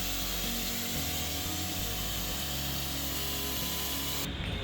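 Spray paint hisses steadily and close as the final coat goes onto a welded steel battery tray with J-hooks, over a low uneven background rumble, and cuts off near the end.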